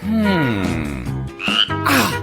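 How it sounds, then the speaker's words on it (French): A frog croaks loudly and close by in an animated cartoon scene, a run of deep, bending, voiced croaks with strained rising tones, continuous and cartoonish. "Attention, Mila, ta grenouille a encore disparu."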